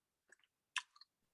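Someone chews food close to the mic, a few soft crunchy and moist bites spaced apart against quiet, with no talking.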